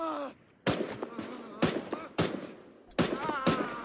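An M1 Garand rifle fires in a World War II Eastern Front video game, sharp loud shots spaced roughly every second with ringing echoes between them, and faint voices in the background.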